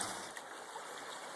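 Creek water flows in a steady, faint, hissing wash that continues evenly without pause.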